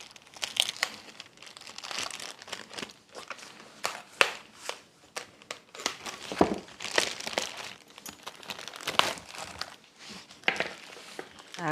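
A package being torn and pulled open by hand, with repeated crinkling, ripping bursts of plastic at close range, irregular and fairly loud, with no talking.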